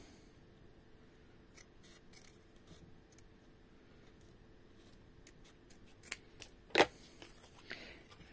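Scissors snip paper for a handmade pop-up Christmas card, a few quiet cuts and rustles scattered through near silence, with one sharper, louder snip standing out.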